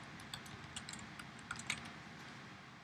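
Quiet typing on a computer keyboard, a run of soft, irregular key clicks with a few sharper taps, close and alone with no talk.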